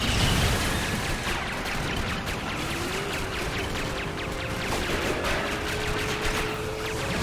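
Rapid bursts of gunfire ring out in the LEGO Batman video game, with dense repeated shots and pops over a noisy, busy background of game effects.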